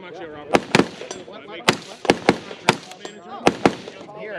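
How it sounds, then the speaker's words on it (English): Sharp, loud gunshots from a 17 Magnum AR rifle on an outdoor range at a gun show event, about a dozen irregularly spaced cracks with people talking underneath throughout. "Every time you pull the trigger and release the trigger, it fires."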